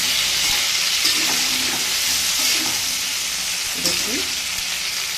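Okra and eggplant fry together in a pan of hot oil for a Bengali breakfast, giving a loud, continuous sizzle with occasional stirring scrapes, and a voice briefly speaks over it.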